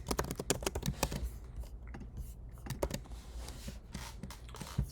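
Rapid clicking of a computer keyboard during a coding session, with dense irregular keystrokes at the start, then sparser taps and short bursts close to the mic.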